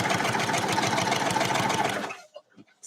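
A sewing machine quilting a serpentine stitch runs at a steady, fast whirring pace for about two seconds, then stops, leaving faint scattered clicks and small movements.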